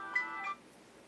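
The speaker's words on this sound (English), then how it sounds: "Oh, that's my phone." A phone rings with a short electronic ringtone, a couple of quick melodic tone bursts close by and fairly quiet in an indoor setting, with no talking over it.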